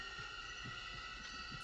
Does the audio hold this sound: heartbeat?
yes